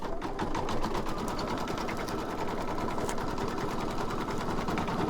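Close, continuous rapid whirring comes from a sewing machine running a wide satin stitch around an embroidered design, its needle chattering at an even pace throughout with no pauses.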